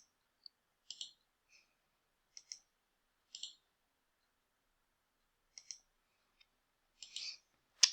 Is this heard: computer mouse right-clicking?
yes